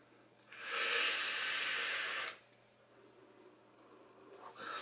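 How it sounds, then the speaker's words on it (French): A vape exhales a cloud of apple-watermelon e-liquid vapour, one steady broad hiss lasting under two seconds, close and fairly loud, then fading to quiet room noise with a faint breathy stir at the end. "On fait toujours une très belle vapeur avec le liquide."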